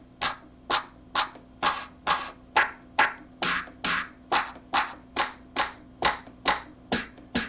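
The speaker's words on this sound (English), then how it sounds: "we've got the TR909 clap number 1 on D#3. That's what we're hearing" A Roland MC-505 groovebox plays its TR-909 clap sample over and over, each sharp, dry clap hitting in an even rhythm, about seventeen in a row, close and alone.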